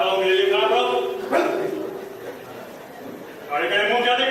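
A stage sound effect of a dog barking outside plays during a Hindi railway theatre production, a few sharp barks at the start and again near the end, with voices heard in between.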